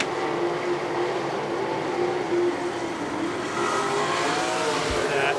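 Race cars roar around Lernerville Speedway in a continuous loud engine drone, with pitch rising and falling as cars pass through the turns at a distance.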